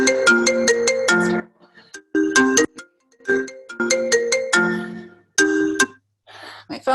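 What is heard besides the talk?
phone ringtone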